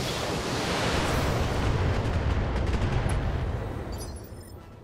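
Mech weapons in BattleTech unleash a heavy, roaring barrage at a target, a dense rumbling blast of fire that sustains loudly for several seconds before tapering off.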